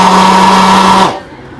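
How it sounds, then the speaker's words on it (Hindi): An electric hand blender chopper runs loud and close with a steady high whine, then cuts off abruptly about a second in, leaving quiet room noise. "इसी के बाद चॉपर, चॉपर की स्पीड चेक करें"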